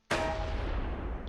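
A tank gun hit in the video game Close Combat III lands as one sudden loud boom, followed by a rumbling tail that fades slowly over a second.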